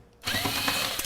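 Power tool driving screws out of a Dell XPS laptop: a sudden start into a steady, close whirring buzz with faint ratcheting texture, lasting to the end.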